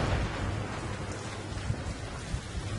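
Steady heavy rain with low rolling thunder in a cartoon storm that breaks out near a giant skeleton, a continuous dense hiss with soft rumbles and no talk.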